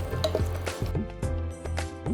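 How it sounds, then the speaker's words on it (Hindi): Cashews sizzling in a pan while being stirred, a steady close fry with scraping strokes and light clinks recurring every half second or so. "काजू जो है फ्राई करते समय बहुत जल्दी उन पे कलर आता है"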